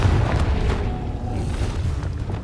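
The Confringo explosive spell cast in the video game Hogwarts Legacy, heard as a deep, rumbling boom that swells at once and rolls on loudly through the whole moment, with no talk over it.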